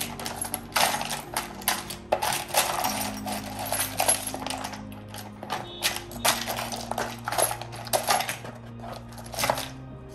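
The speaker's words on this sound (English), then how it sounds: "I will be first using a spatula to mix all of them up." A spatula stirs and clatters through a pile of small hard divination charms, giving continuous jingling, clinking rattles with short pauses, close and fairly loud with no talk.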